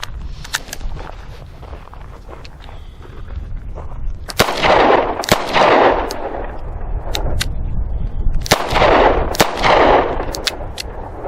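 A Charter Arms Bulldog .44 Special revolver fired double action outdoors: several sharp, loud reports at irregular intervals, each followed by a broad echoing boom, with smaller clicks and knocks between shots.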